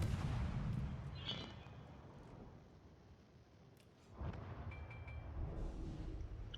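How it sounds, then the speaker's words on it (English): Heavy naval guns fire a volley from a warship in World of Warships, a deep booming blast with a long rumbling tail, followed after a quieter stretch by another low concussive rumble. "I get off one volley before they drag him down"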